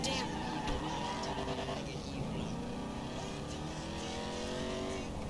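A car in GTA V drives steadily with a constant engine drone and road noise, loud and continuous throughout, with faint game sounds in the background.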